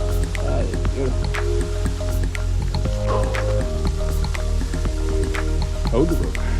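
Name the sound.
waterfall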